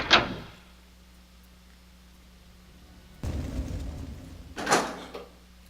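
A heavy door in Resident Evil 2, a survival horror game set in a police station, opens with a loud thud, followed by a rumbling slide and a final solid knock.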